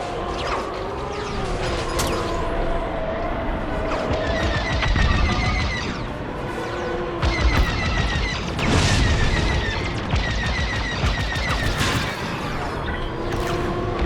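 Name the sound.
enemy fire hitting ship in video game Star Wars: Squadrons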